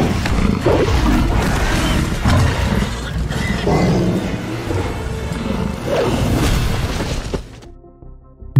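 A zombie tiger in a film roars in deep, rumbling bursts, repeated several times over a dense, loud, crashing backdrop before it cuts off abruptly.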